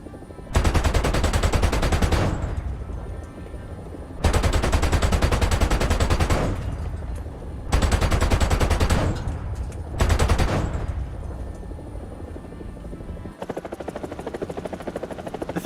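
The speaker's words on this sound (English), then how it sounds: "The 30mm chain gun on the Apache is just so cool to me" Apache helicopter's 30mm chain gun in War Thunder firing in four long, loud bursts of rapid shots, separated by short pauses filled with the steady drone of rotor and engine.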